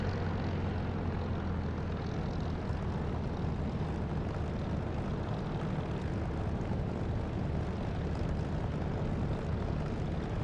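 A damaged, failing aircraft engine in the DCS flight simulator roars as a steady, dense, loud drone that holds without a break for about ten seconds, with no voices.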